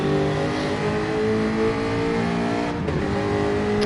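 A Jaguar F-Type race car engine in Gran Turismo 7 roars steadily and loudly, a dense harmonic drone held at high revs with a slight dip near the end, close and continuous without speech.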